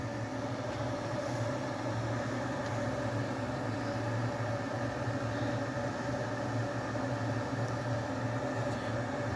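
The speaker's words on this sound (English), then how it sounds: "Just got to bring them babies to the boil. Starting to bubble away nicely." Water heating toward the boil in an electric jug in a hotel room, giving a steady, continuous rushing hum with a low rumble that holds evenly throughout, with no voices.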